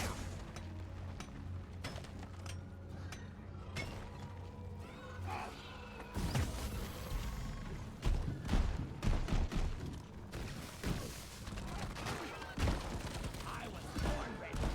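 Engineer's shotgun with the Stunner overclock blasts in a fast volley in Deep Rock Galactic, loud sharp reports cracking over chaotic combat noise and crashes, repeated in bursts.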